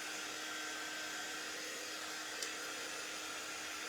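A hair dryer blows steadily to dry resin coated onto craft stars, a constant close airy whoosh that stays alone and unbroken throughout.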